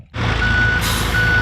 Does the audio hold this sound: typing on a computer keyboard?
no